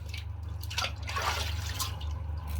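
Water splashes and drips while a man wets his face with his hands before a shave, fresh out of the shower; soft, close, continuous wet sounds over a steady low hum.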